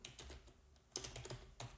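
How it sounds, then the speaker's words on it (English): Quiet, sporadic typing on a computer keyboard, a few scattered clusters of key taps with brief pauses between them, fairly faint and with no talk over it. "I'm typing."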